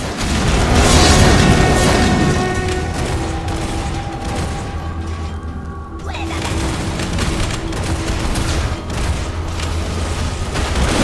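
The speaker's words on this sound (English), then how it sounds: "Your bombard has been destroyed." Battle explosions and booms in the dark fantasy strategy game War for the Overworld as a bombard is destroyed, a dense rolling barrage with sharp blasts amid game music and a narrating voice.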